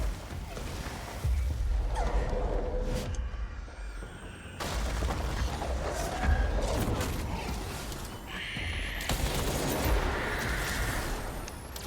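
Explosions and gunfire-like bursts in the supernatural action game Control, loud impacts recurring through the clip over a busy game soundscape.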